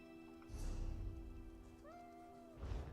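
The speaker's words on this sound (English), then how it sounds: "that's somebody's bugged out cat" A bugged cat in The Elder Scrolls Online gives a short, clear rising-then-level meow over steady game ambience and music, with soft footstep-like thumps around it.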